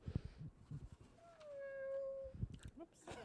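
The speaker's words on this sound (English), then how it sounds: "This is a mechanical therapy kitty, and it provides comfort." A mechanical therapy toy kitty lets out a single drawn-out electronic meow, close and fairly clear, with a voice speaking before and after it.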